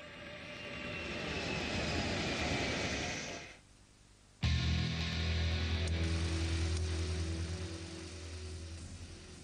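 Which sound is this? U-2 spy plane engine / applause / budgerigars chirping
U-2 spy plane engine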